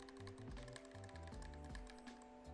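Close, steady typing on an ID80 keyboard with wobbly SA keycaps: a quick run of clacky keystrokes over a constant tonal hum, with no talking.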